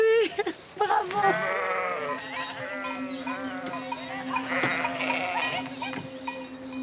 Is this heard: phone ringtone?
no